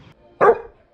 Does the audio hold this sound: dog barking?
yes